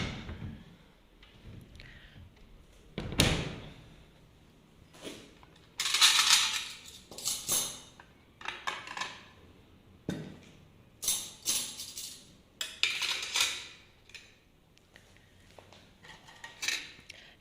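A baking tray is pulled out in a home kitchen amid a run of metallic clatter, scrapes and knocks, loud and close in irregular bursts with quiet gaps between them.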